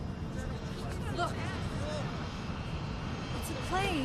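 A fixed-wing airplane drones overhead with a steady, broad engine roar, while people talk over it nearby.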